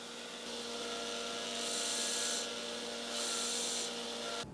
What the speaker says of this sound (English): So I was going to grind out the profile of that now to make fitting the handle block a little easier